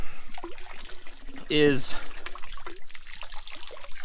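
Hot water trickling from the outlet of an off-grid rocket stove water heater, a soft steady splashing close by, with someone talking over it briefly.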